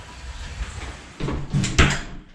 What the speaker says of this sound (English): let's see if the door closes.